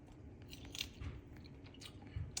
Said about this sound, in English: This is pretty dry, and as you can see, it's not too hard to chew.